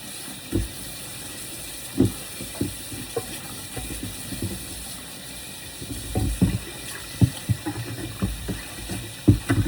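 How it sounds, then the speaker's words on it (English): Running tap water in a home kitchen sink while hands and a cutting board are washed, a steady hiss of flow broken by irregular knocks, clunks and splashes as the board is handled, close and moderately loud. "Wash my hands and my cutting board."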